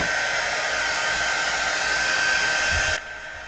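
A hair dryer blows steadily and loudly on collage paper, a constant whooshing hum that cuts off abruptly near the end and leaves a faint hiss.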